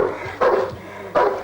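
Trained police dog Saxon barking aggressively, two sharp, loud barks close by with a short gap between them and a low growl-like rumble under them.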